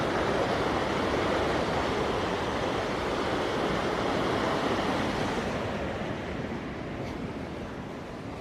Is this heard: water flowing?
yes